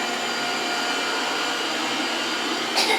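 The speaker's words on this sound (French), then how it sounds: "j'étais en train de vous montrer l'aspirateur robot" Robot vacuum cleaner running with a steady, loud broadband whirring hiss that holds constant throughout, with a faint bump near the end.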